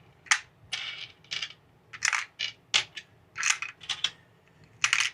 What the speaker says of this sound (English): take my screws and drop in a couple per slot